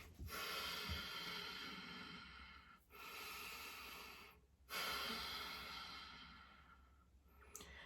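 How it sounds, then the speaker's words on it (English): Slow, deep breaths drawn in and released by a woman, three long airy inhale-exhale cycles, close to the microphone and quiet, with no talking. "I'm just going to take a few deep breaths"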